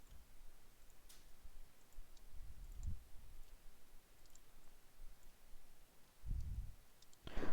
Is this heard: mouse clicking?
yes